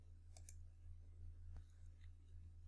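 Mouse clicks in Excel, a few faint, sparse taps over a low steady hum, with no voice.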